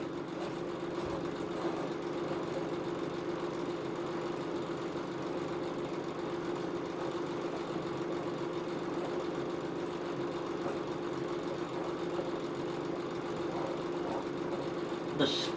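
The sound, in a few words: mud mower engine running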